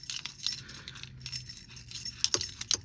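Keys jangle on a DTOM Knives and Gear key ring, a close, light metallic chinking in several quick bursts, with brighter clinks near the end and a faint low hum underneath.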